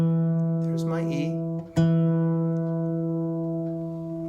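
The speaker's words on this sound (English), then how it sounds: "The G string is tuned down to E." A single sustained note rings on an acoustic guitar's G string after it has been tuned down to E, steady and close with a clean harmonic tone, briefly re-struck midway, with a faint voice murmuring near the start.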